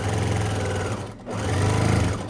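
A sewing machine runs steadily while stitching a square of folded fabric into a basket, its motor hum close and continuous, pausing briefly midway before resuming.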